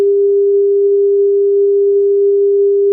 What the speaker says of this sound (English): This is a tone at 200 hertz.